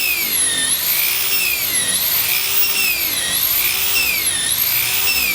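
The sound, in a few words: power sanding a boat's surface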